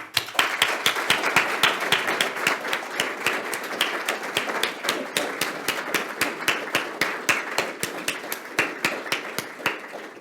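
An audience at a talk on traditional Pacific navigators applauds to welcome a speaker to the stage, a steady crowd of close, rapid hand claps that holds evenly throughout without talking.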